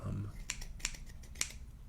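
Scissors cutting photos, with several soft, close snips at an uneven pace over faint low background noise.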